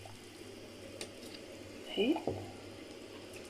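Cow trotters drop into a pot of plain boiling water with a brief, close splash and bubbling, while someone speaks briefly over the steady background.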